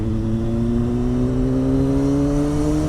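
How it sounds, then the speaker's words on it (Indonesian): A car's engine accelerates steadily through traffic on a city street, its rising harmonic drone close and continuous with no talking. "kita gas lagi"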